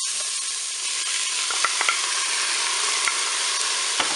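Lentils sizzle in the hot Cookeo pot, a steady loud frying hiss with a few soft clicks of stirring scattered through it.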